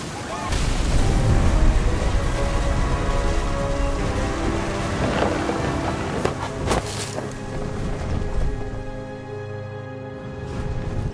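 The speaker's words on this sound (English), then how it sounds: "Thunder sounded much too close and full of angry power." Thunder rumbling over steady rain in the video game What Remains of Edith Finch, a dense, loud wash of rainfall with deep booming swells and a few sharp cracks, heard under a voice talking.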